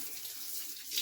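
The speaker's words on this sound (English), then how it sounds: "water should be draining out" Water draining from an opened valve on a cottage water line while closing up for winter, a steady hissing trickle that runs for about a second and swells slightly at the end.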